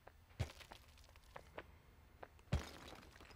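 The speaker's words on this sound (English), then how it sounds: "I can't believe this wooden fucking box just smashed its way through a concrete wall" A wooden box crashes through a concrete wall in the physics game Human: Fall Flat, heard as two heavy thudding impacts with cracking debris about two seconds apart, with lighter knocks and clatter between them, fairly quiet overall.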